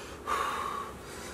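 A pregnant woman takes one audible breath, a sharp gasping inhale that trails off into a steady exhale, close and fairly quiet.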